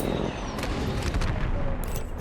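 Rapid gunfire in the shooter Apex Legends, a continuous dense crackling barrage with overlapping shots and echoing booms, steady and loud throughout with a brief high metallic clink near the end.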